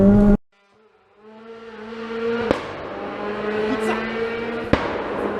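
A tuned car's engine roars at high revs, a loud sustained tonal drone that rises and holds after a brief silence, broken by a couple of sharp pops.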